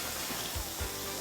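A burger patty cooking on a ridged grill: a steady, close hiss of sizzling and steam throughout, with a couple of soft low thumps.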